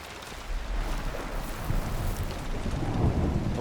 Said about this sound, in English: It's a really bad storm.